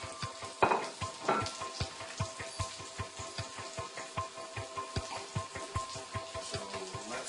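Shallots and sage crackle in a pan of brown butter beside sage trout, a steady busy sizzle with quick popping bursts, close and alone throughout.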